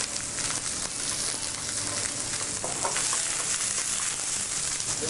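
Vegetables frying in olive oil in a pan, a steady soft sizzle with light crackles and occasional stirring, close by and continuous with no talking.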